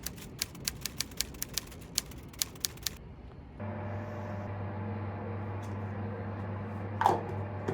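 Keys are struck sharply one at a time in an even, spaced rhythm while a novel is being written, then the tapping stops and a steady low hum takes over, with one brief louder sound near the end.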